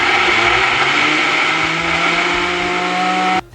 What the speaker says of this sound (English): And now it's time to blend.